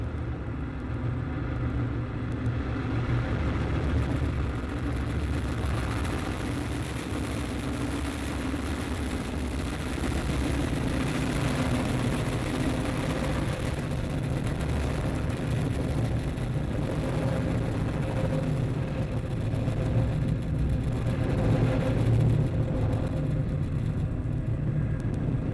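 At the Galileo IOV2 launch, the rocket lifts off with a steady, heavy low rumble that holds for the whole stretch, with no voices.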